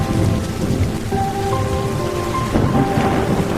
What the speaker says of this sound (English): Students rushed home while thunder echoed outside